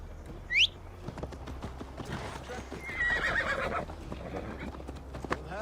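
A horse in Assassin's Creed Valhalla lets out a sharp whinny, then its hooves clip-clop steadily at a nearby gallop, with a second neigh and rumbling movement over the top.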